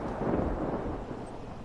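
A short, deep rumble of thunder from rocket-triggered lightning in northern Florida rolls on steadily as a broad, muffled roar, with no voices.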